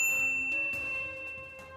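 A bright notification bell dings once, then again, each chime ringing out with a clear sustained metallic tone that slowly fades.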